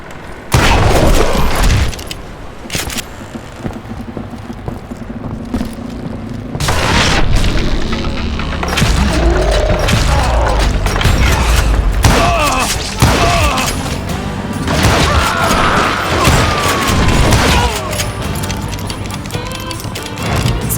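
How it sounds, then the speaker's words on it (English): A roped footbridge crashing down after its rope is shot in the Western shooter Call of Juarez: Gunslinger: loud booming thuds and clattering wooden impacts, followed by continuous rumbling, creaking and scattered crashes over a busy game soundscape. "I noticed a footbridge tied up on high, so I shot the rope"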